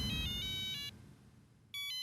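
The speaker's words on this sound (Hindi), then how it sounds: "बड़े मास्टर का फोन है।" A phone ringtone plays in an electronic beeping pattern, breaks off for a moment and then starts again, over a low background rumble.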